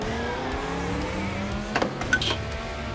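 Race car engine in the driving game Assetto Corsa, a steady high-revving drone with brief tire chirps and a short spike of noise near the end, no talk.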